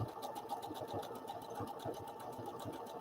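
A sewing machine runs steadily in a quick, even rhythmic whir, faint and continuous with no talking.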